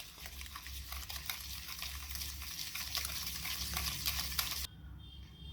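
Butter and sugar are stirred together for cake batter, a soft, steady scraping and swishing close by, fairly quiet, with the texture changing abruptly near the end.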